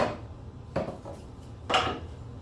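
Parts come off a Mark 4/7/520 table saw: a fence, a featherboard and an insert. Three close knocks and scrapes of metal and wood are spaced about a second apart, with no talking.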